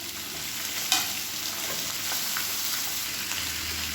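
Onion, garlic and tomatoes sauté in a pan for chutney, giving a steady soft sizzle with occasional stirring scrapes and clicks, close and continuous with no talk.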